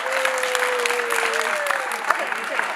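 Kids at a Black history and social justice workshop applaud and cheer in a dense, steady burst of clapping, while a voice speaks over the noise.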